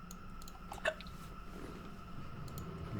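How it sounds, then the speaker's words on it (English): One short, quiet hiccup near the start of an otherwise hushed indoor moment at a tabletop game session, followed by faint room noise. "You get the hiccups?"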